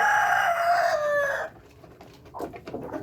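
Backyard chickens just given their feed: a loud, close rooster-like crow stretches across the first half, then quieter scattered clucks pick up toward the end.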